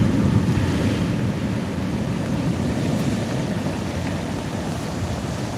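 Sea waves surge and wash around a fishing kayak in a continuous loud rush, with heavy wind buffeting the microphone and no voices.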